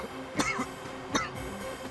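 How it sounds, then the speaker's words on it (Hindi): Two short coughs spaced about three quarters of a second apart in an indoor TV crime drama scene, moderately loud and close, with no talk over them. "उन्हें ऐसे ही खांसी आती है।"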